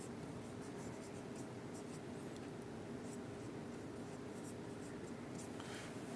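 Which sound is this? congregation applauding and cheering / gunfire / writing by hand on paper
writing by hand on paper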